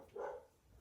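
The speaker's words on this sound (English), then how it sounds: "The dogs are barking because they think I knocked on the door." Dogs bark indoors at a home, reacting to a knock at the door; a single short, muffled bark rises briefly and fairly faintly from a quiet room.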